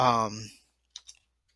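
A voice trails off, then two quick, crisp clicks of a computer mouse follow close up in near silence.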